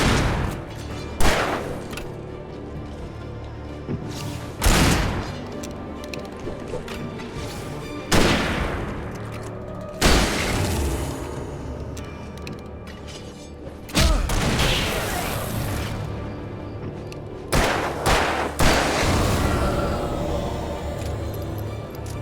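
Loud gunshots from Alan Wake Remastered on PS4 boom out one at a time every few seconds, each heavy and reverberant, with a few in quicker pairs over a low rumbling background.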